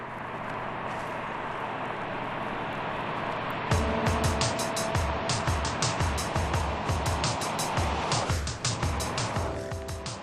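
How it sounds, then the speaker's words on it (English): A Rewaco trike with a 1.4-liter V-twin cruising a coast road: steady motor drone that turns into a loud, close, rhythmic lumpy engine pulse with a rising note, heard alone. "The blubbering sound of its engine"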